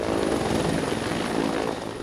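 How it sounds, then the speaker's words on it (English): President Clinton's helicopter lands on the grounds of a school in Abeokuta, southwest Nigeria, its loud rotor and engine roar filling the air steadily and close by. "President Clinton's helicopter touching down today in the grounds of a school in Abeokuta, southwest Nigeria"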